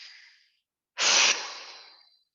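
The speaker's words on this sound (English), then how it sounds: "We're breathing." Slow, close breaths in a quiet stillness meditation: a soft airy exhale trailing off, a pause, then a sharper, louder inhale that tapers into a long sighing release.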